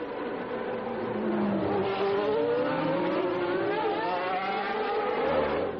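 Formula 1 cars at the 1990 Monaco Grand Prix, engines screaming and rising in pitch as they pass close by, a continuous high-revving whine with one car following right behind another.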